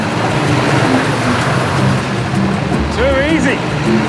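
A vehicle churns through water on a bush track in the African wild, a loud rushing slosh and engine rumble that swells and eases. Someone speaks briefly near the end, and a bird call is faintly heard.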